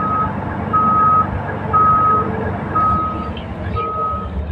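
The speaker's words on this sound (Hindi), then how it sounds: "देख लीजिए डाला टिपर का उठ रहा है।" A new-model BS4 Volvo tipper truck raises its dump body to unload material. A loud, steady engine drone runs throughout, with a high warning beep sounding at regular intervals over it.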